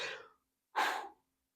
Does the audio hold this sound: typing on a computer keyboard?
no